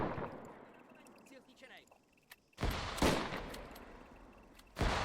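Soldiers exchanging gunfire in a World War One video game mission: scattered, faint shots give way to loud, close bursts of rifle and machine-gun fire, with a voice talking quietly in between.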